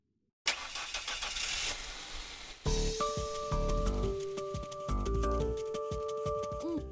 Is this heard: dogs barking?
no